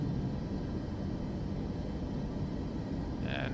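Steady roaring engine rumble from a Boeing 737 climbing away on takeoff in Microsoft Flight Simulator 2024, constant and fairly loud throughout, ending with a brief electronic chime.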